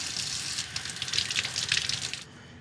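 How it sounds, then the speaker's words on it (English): Shrimp are rinsed under cold running water from a tap, a soft steady splash that swells briefly near the middle and cuts off sharply at the end, with no speech. "So rinse them well in cold water."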